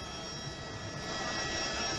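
A steady broad engine roar fills the sky above a Barcelona street demonstration, a helicopter carrying a TV camera droning continuously at a moderate distance with no voices.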